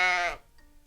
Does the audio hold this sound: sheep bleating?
yes